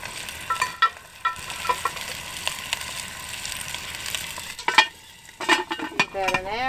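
Leg of lamb sizzles in extra virgin olive oil at a bush camp in the Flinders Ranges, a steady close frying hiss with clinks and scraping bursts from utensils, and a brief voice-like whine near the end.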